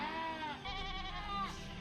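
A goat bleats in long, wavering cries, two or three calls in a row, close and fairly loud, heard at an outdoor regional fair in Dairi.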